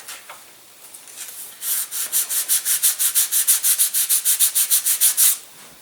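Sandpaper rubbed back and forth over a balsa wood wing of an elastic-launched glider, about twenty quick, even, close scratchy strokes after a brief quieter start.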